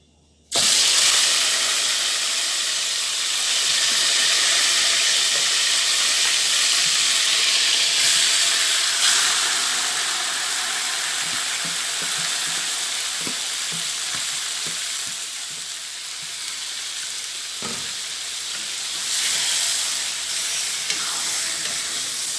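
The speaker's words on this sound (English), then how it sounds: "so my oil hot now and I'm going to put in my pork" Pork dropped into hot oil bursts into loud, continuous sizzling and crackling that holds steady for over twenty seconds, heard close with no talking.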